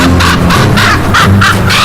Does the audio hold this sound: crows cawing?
yes